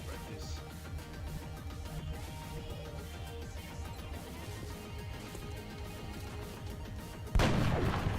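A sniper rifle shot in the modded video game XCOM Long War lands amid continuous game music and effects, ending in a sudden loud crack near the close, followed by sustained noisy rumble.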